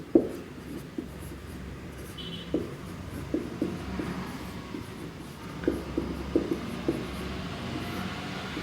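Marker or chalk writing on a board during a classroom lesson, with a scattered series of short taps and scratchy strokes at an uneven rhythm, close and fairly clear against a quiet room.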